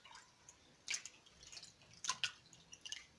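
Sardines rinsed in water and vinegar are lifted out by hand, bringing a few wet splashes and drips that come close and fairly quiet, in small bursts with short pauses between them and no voice.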